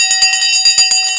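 A studio bell is rung on air for a live stock market trading show, about seven quick bright metallic strikes in rapid succession, loud and close, with ringing tones sustaining between hits.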